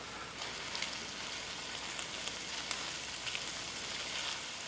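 Garlic crackles and sizzles in hot sesame oil in a pan, a steady, dense hiss sprinkled with tiny pops, fairly soft and close, without any voices.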